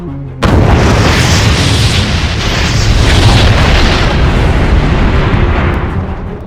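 Missile launch roaring after a countdown, a loud sustained boom and rumble that holds steady for several seconds with no voices.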